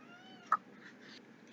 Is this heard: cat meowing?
yes